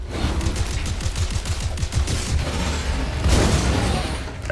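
Rapid bursts of shotgun fire in a video game, a loud clustered volley of blasts early on followed by a few more heavy shots near the end over steady background noise.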